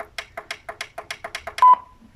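An RGB gaming speaker gives a maximum-volume cue: a rapid run of about ten short, evenly spaced beeps, then one longer, louder tone that fades out, close and clear.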